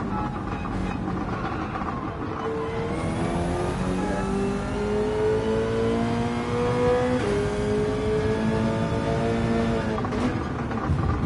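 Race car engine in a racing video game, loud and continuous, with the pitch climbing steadily through the gears as it accelerates, broken by short shift dips and a rising whine on top.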